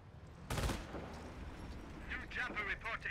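A Greyhound armored car fires in a Company of Heroes 1 match, one sharp loud blast followed by a burst of rapid crackling impacts, with other battle noise around it.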